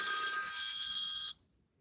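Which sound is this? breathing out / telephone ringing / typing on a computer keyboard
telephone ringing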